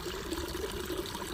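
Moving water, a soft continuous wash and trickle, faint and steady throughout.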